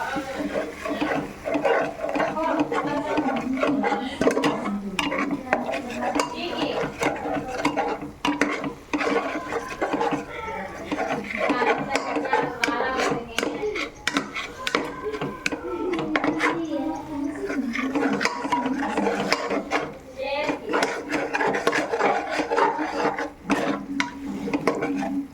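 Spice powders are stirred into mutton biryani masala in a pot, giving a steady, close scraping and rubbing of the spoon against the metal that runs throughout, with a voice speaking over it.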